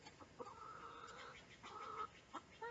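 Chickens cluck in a backyard chicken yard, two drawn-out calls from a hen or two plus a few short clucks, fairly close over a quiet outdoor background.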